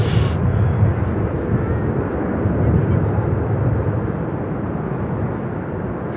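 ITA Airways airliner rolling on runway 9 at Miami International Airport, a steady broad engine roar held at constant loudness throughout, with faint voices under it.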